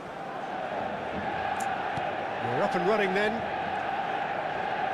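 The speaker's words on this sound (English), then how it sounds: "The stadium is full of noise and energy." A steady roar of a full stadium crowd in eFootball fills the background, a broad, continuous wash of noise with a commentator talking over it.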